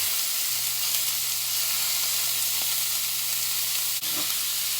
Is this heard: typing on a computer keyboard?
no